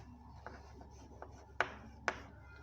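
Pen or chalk writing a definition by hand, faint scratchy strokes with a few sharper taps, quiet and uneven.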